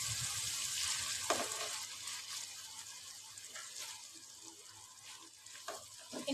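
Sliced medium tomatoes frying with lady finger (bindi) in a pan give a steady, close sizzle with soft crackles and occasional stirring scrapes throughout.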